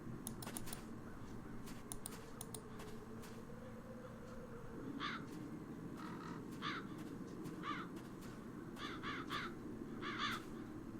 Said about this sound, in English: The crows haven't left anything of the town's banner.